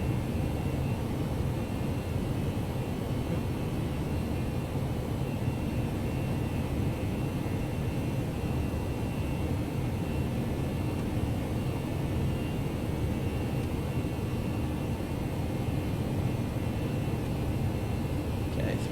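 A United A319 jet in the X-Plane flight simulator climbs under thrust, giving a steady, even engine roar with broadband rushing noise throughout, unbroken and moderately loud.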